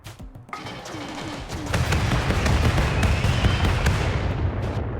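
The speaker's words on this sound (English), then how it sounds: "I wonder if I can hit Scythers on the go with the rocket swarm." A rocket swarm weapon fires at Scythers in the video game RimWorld, a dense, loud volley of rapid bangs and crackling blasts that builds after a brief start and keeps going steadily, with no talking.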